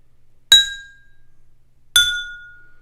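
Two clear chiming taps on an empty glass ring out roughly a second and a half apart, each bright ping fading gradually into near silence.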